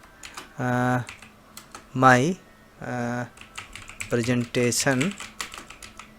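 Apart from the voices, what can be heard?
typing on a computer keyboard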